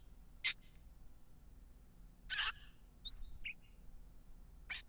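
Small birds added in a Minecraft add-on chirp in short, bright, separate tweets spaced a second or two apart, fairly faint over a quiet hum.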